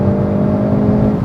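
A 2017 Hyundai i30 N hot hatchback engine pulls hard under acceleration, a loud, steady low droning whir heard from close by.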